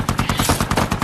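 Rapid automatic rifle fire in a war film about an American outpost under Taliban attack, a dense, loud, evenly spaced burst of shots with no pause.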